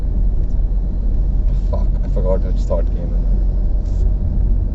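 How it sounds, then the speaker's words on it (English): Road traffic rolls past in a steady, loud low rumble from cars and engines, continuous throughout while someone talks over it. "The traffic here is so much better these days, man."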